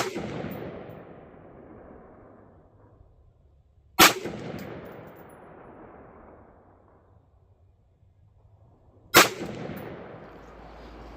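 Two loud rifle shots at an outdoor shooting range with a 100-yard target, fired while zeroing a CVLIFE Eagle Feather 1-8x24 LPVO scope, several seconds apart, each followed by a long rolling echo that fades out.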